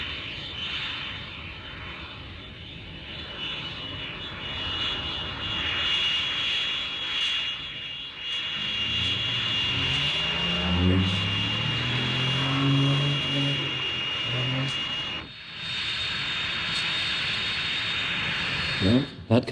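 A jet aircraft, in a setting tied to the F-86 Sabre, taxis after landing, its engine a steady roar that swells and shifts in pitch as it rolls nearby, with a brief radio voice at times.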